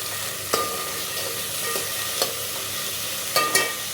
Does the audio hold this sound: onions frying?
yes